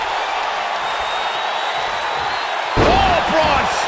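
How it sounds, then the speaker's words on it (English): Braun Strowman slamming into the mat in WWE 2K19, a heavy thud hitting after a stretch of steady crowd roar, with a commentator's voice and the crowd swelling around the impact. "Braun Strowman slamming into the mat"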